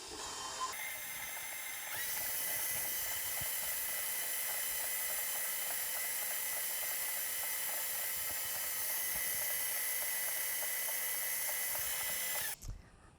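An electric mixer mixing butter, sugar and vanilla runs at a moderate speed, making a steady, close, high whirring hum that lasts without a break before it cuts off near the end.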